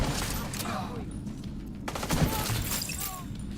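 Rapid bursts of turret gunfire in a video game, sustained crackling volleys with sharp shots layered over game sounds, with voices talking over the shooting.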